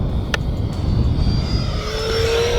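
A USAF Thunderbirds RC jet makes a low pass, its turbine roaring steadily with a thin whine that climbs in pitch as the model closes in, with no talking.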